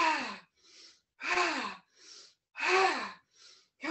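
Breathing during a chair yoga exercise: three strong, rhythmic gasping inhales, each followed by a softer exhale, close to the microphone and alone.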